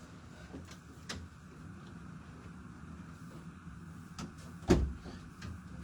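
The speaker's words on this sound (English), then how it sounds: "Also, I got to close my door." A room door swung shut, landing as a single dull thump in an otherwise quiet room with faint scattered clicks and low background hum.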